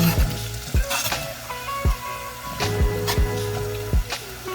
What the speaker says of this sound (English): We're gonna pop in all that garlic and the onion.